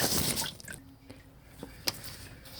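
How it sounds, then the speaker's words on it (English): Transmission fluid drains from the pan of a Jeep Patriot's F24 six-speed automatic, a faint steady trickle with occasional small drips and a soft tap. "So definitely a couple of quarts of fluid are coming out."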